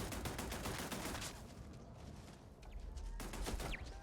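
Automated turret firing in the sci-fi video game Starfield, a dense burst of rapid gunfire that dips briefly and then resumes, loud and close, with no talking over it.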